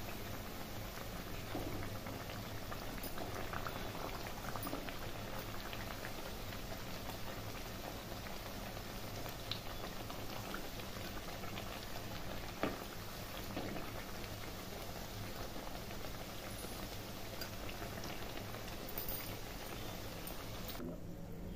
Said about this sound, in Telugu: ఇదిగోండి, ఇలా బంగారం రంగు వచ్చే వరకు వేయించుకుందాము.